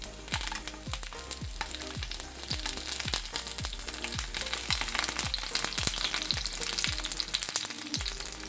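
Pearl spot fish wrapped in banana leaf fries in coconut oil in a pan, giving a steady, close, crackling sizzle throughout, dotted with a regular series of soft ticks and pops.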